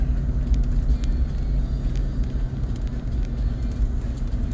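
A pickup truck engine labouring uphill in third gear on a mountain road, a low, steady rumble heard from inside the cab, constant and moderately loud with no talking.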